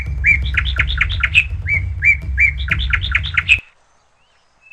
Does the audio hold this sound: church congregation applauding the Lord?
no